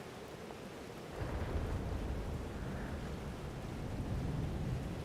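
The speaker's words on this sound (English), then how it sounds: "Storm followed me" Thunderstorm with steady rain in the Life Is Strange: Double Exposure video game, a continuous broadband downpour whose low rumble swells after the first second and stays loud throughout, with no voices.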